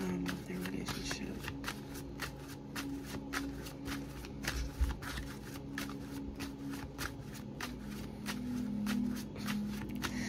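Tarot cards shuffled repeatedly in a steady run of crisp riffling flicks for the full stretch, close and fairly loud, with a faint low hum underneath.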